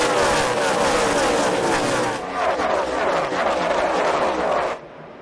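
NASCAR stock cars race at full speed after a restart in the 2011 Good Sam RV Insurance 500, a loud, dense engine roar filling the clip before cutting off abruptly near the end, with faint voices underneath.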